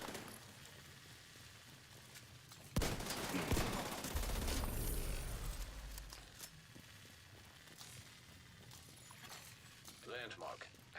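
A sudden loud burst of gunfire from The Division 2 erupts after a quiet start, with rapid shots and a heavy low rumble lasting a few seconds before fading back to low background noise and voices.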